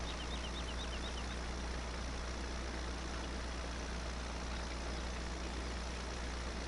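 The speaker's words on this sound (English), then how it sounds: "the game's just moving the harvester and that tractor for me" A harvester and a tractor in the Farming Simulator 17 video game run with a steady, low engine drone at an even level throughout, with no talk over it.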